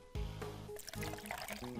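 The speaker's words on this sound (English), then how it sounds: "Pouring the tea." Tea being poured in the video game Ace Attorney Investigations 2: a short, quiet trickling pour of liquid that starts with a soft thump and continues alone.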